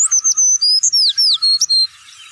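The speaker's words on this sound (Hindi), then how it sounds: "गोरैया" A sparrow chirps in a rapid run of bright, high tweets, about a dozen notes close together and loud, then stops, leaving near silence.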